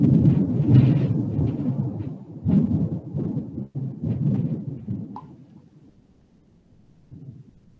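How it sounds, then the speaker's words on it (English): Afternoon thunderstorm thunder rolls in as a deep, rumbling roar that swells and pulses for several seconds, then fades to a low, distant grumble; loud and close, with no voices. "we're having a bad thunderstorm again this afternoon"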